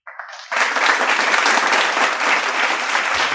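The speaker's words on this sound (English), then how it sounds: "Can you all give a huge round of applause to all the students?" Audience at a school prize-distribution assembly bursts into applause for the students, a dense burst of clapping from a crowd that starts abruptly after a brief lead-in and holds steady for several seconds.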